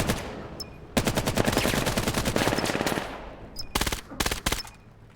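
Rapid bursts of automatic gunfire from the tactical shooter game Valorant, a long sustained volley followed by several shorter separate bursts, loud and close with no talk.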